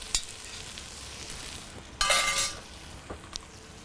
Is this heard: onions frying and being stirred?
yes